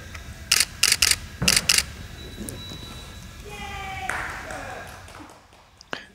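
High-speed camera flashes fire in a quick burst of sharp clicks and pops, several in a row with some misfiring, followed by a rising electronic charging whine, close by with faint background noise.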